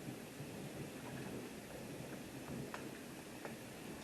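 Steady rain falls in a thunderstorm, an even wash of hiss with faint low rumbles and a few sharp crackles and ticks. It is heard at a distance, with no voices.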